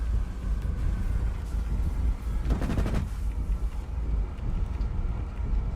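.50 calibre aircraft machine guns fire in War Thunder, a short rattling burst over a constant loud engine and wind roar.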